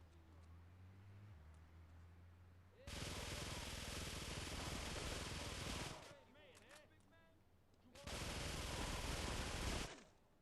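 In the GTA 3 video game, an M16 rifle fires in two loud, sustained automatic bursts of about three and two seconds, separated by a short pause with a few fainter sounds.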